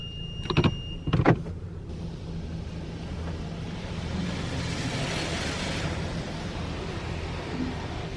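An automatic car wash runs steadily around a stopped car, with a broad wash of spraying water and soapy rumble, a couple of louder thumps and whirs near the start, then continuous hiss.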